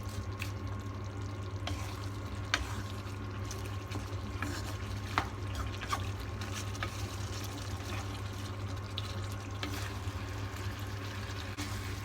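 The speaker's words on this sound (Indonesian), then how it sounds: "Masukkan kol ya teman-teman" Cabbage being stirred and fried in a pan for goat tongseng, with a steady low sizzle and occasional light scrapes and clicks of the spatula, close and quiet with no talk.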